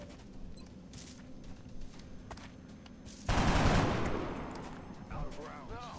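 Gunfire in the turn-based strategy game X-COM Long War: after quiet ambience and faint clicks, a sudden loud burst of shots that rings out and decays, followed by a short electronic chirp.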